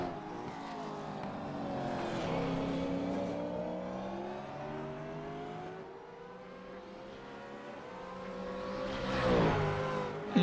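Race cars lapping the tight Bathurst circuit in a Majors Series race, engines droning steadily at a distance with rising and falling pitch, one car swelling louder near the end.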